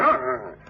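A single short, loud dog bark or yelp in an old-time radio drama, close and clear, trailing off quickly with no talk over it.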